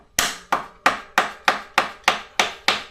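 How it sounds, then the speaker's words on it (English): A rubber mallet taps a Hollowtech II bicycle crank arm to loosen it. Nine sharp, evenly spaced knocks come about three per second, close and fairly loud, each decaying quickly. No voice is heard. "Might need a rubber mallet for this. A little love tap on here might do it"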